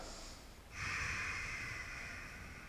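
A deep, steady breath drawn during a standing yoga stretch with arms reaching overhead, a soft airy rush that swells after a brief lull and holds close and even for about two seconds.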